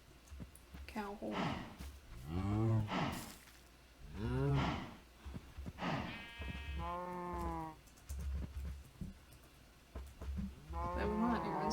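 Cow mooing in a video game, a few drawn-out bellowing calls spaced across the stretch, heard alongside people talking.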